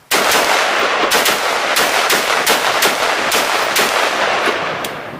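Rapid rifle fire of 5.56 full metal jacket and armor-piercing rounds at an indoor-sounding range about 7 to 10 yards from a cabinet target, loud sharp shots in a fast, steady string with ringing echoes.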